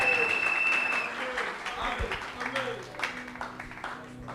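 A church congregation claps and cheers in praise, a loud continuous wash of applause with a voice speaking over it.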